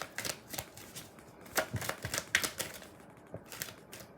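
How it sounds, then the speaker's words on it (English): Tarot cards being shuffled and laid out on a table for a Libra reading, a close run of quick papery slaps and flicks with brief pauses, no talking. "I'm gonna get all the cards out before I start interpreting the message"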